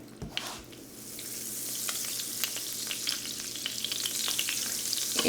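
Olive oil and butter sizzle in chicken pan drippings, a steady crackling fry that builds gradually and is broken by sharp pops and spatters, close up with no talking.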